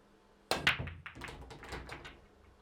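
A nine-ball pool break: a sharp cue strike followed by a rapid cluster of billiard balls clacking and scattering, the collisions thinning out over a couple of seconds, fairly close and alone.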